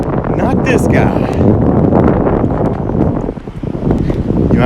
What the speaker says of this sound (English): You might hear the breeze.